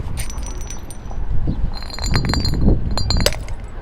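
Glass clinking and chinking as an object accidentally breaks, with several sharp bright taps and rattles scattered over a steady background, fairly close and loud, no talk.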